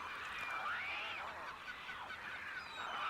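A flock of migrating birds gathers at salt pans, a soft, continuous chorus of honking and gabbling calls at a distance with no talk.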